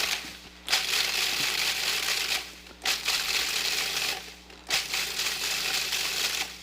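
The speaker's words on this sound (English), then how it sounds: "my food processor here is some, there we go, tortilla chips, Tostitos" A food processor pulses Tostitos tortilla chips in loud, gritty bursts of crushing and rattling, three long pulses separated by brief pauses, close and without talk.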